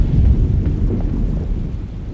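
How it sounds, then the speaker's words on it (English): A thunderstorm in Alone in the Dark (2024) gives a loud, deep, rolling rumble of thunder that swells at the start and slowly fades away. "Looks like a storm's coming."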